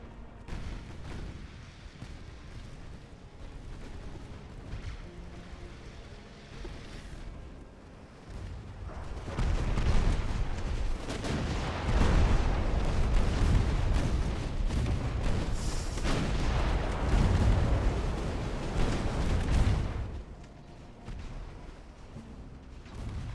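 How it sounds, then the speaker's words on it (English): Naval gunfire from destroyers in the video game Ultimate Admiral: Dreadnoughts, heard as a continuous muffled rumble of distant cannon booms that swells to a dense, heavy barrage midway through and then eases back to a lower roar. "Destroyers, I would like you firing on the York."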